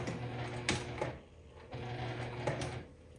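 A sewing machine runs stitches through worn towel fabric, a close, steady mechanical whir with rhythmic needle clatter that briefly stops and restarts midway.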